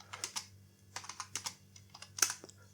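A computer keyboard tapped while entering CSS code, with irregular light clicks in small clusters, close but quiet, with no talking.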